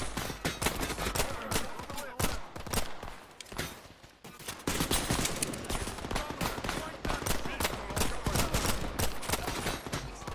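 Dense, sustained gunfire in the video game Phantom Line, rapid overlapping shots and bursts packed tightly together, loud throughout with a brief lull near the middle and voices faintly mixed in.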